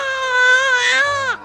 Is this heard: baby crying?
yes